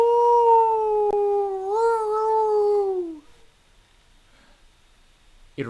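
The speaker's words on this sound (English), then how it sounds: "The howl of an animal. It sounds too high to be a dog." A high, drawn-out animal howl from the Tsukihime visual novel rises loud and steady for about three seconds, wavering slightly before sliding down and cutting off, leaving near silence with a brief sharp sound at the end.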